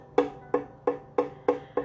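Muted guitar string plucked six times in an even rhythm, each note a short dull thunk that dies away quickly, close and clear with no talking.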